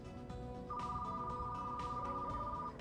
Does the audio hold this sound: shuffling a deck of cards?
no